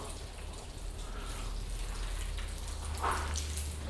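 A car being washed by hand with a wash mitt and Carpro Reset shampoo: steady wet swishing and watery rubbing over the paint, continuous and close, with a brief louder splash near the end.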